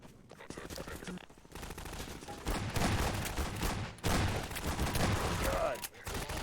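Bursts of rapid gunfire from Half-Life 2 come in clusters with brief pauses between them. The shots sound moderately loud and dense.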